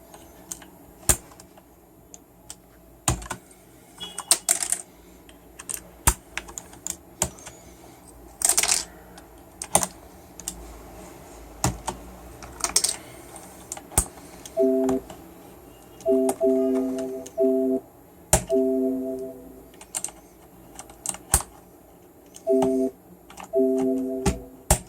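Typing on a Corsair K70 mechanical keyboard with blue switches gives crisp, clicky keystrokes in irregular bursts and single taps, close and fairly loud against a quiet background, with a few tonal beeps in between.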